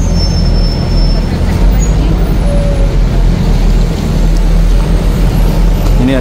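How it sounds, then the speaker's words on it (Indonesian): Dense, steady rumble of heavy, jammed traffic on the road to Masjidil Haram in Mecca, idling engines close by with a faint squeal or two and no clear voices. "Ini jalur menuju ke Masjidil Haram. Ini macet total, macet parah ini ya."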